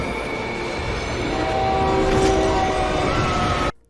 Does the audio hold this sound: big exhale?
no